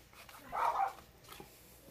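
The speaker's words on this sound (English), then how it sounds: "My dog is in there going absolutely crazy right now" Dog barking from another room, a muffled burst of two or three yaps roughly midway through, then a fainter yelp, set against a quiet indoor background.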